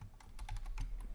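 Fingers typing on a computer keyboard, a quick run of about eight close, crisp key clicks in uneven rhythm, clear and alone.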